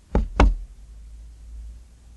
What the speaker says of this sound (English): Matthew crept upstairs and tapped on the door of the east gable.